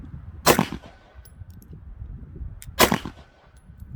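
A Taurus TH9 pistol fires two loud, sharp shots about two seconds apart, each a hard crack with a short ringing tail, with quiet background between them.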